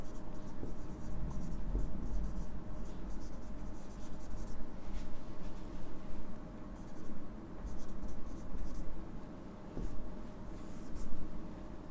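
A pen scratches across paper, writing a heading in short strokes and pauses, close and fairly quiet over a low background hum.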